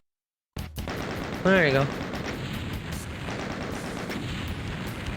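Shotgun blasts in the 1993 Doom game, loud booming shots repeating over a dense, noisy action scene, with someone briefly talking over them.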